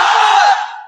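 A large crowd at a Bengali waz mahfil religious gathering shouts the takbir Allahu Akbar in unison, a loud, brief roar of many voices that quickly fades.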